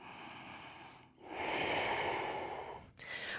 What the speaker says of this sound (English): Staying and breathing for 2 full breaths here.